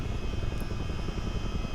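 CH-47D Chinook tandem-rotor helicopter in the Miltech Simulations flight sim, a steady dense low rotor and engine drone held at constant loudness throughout, with no voices.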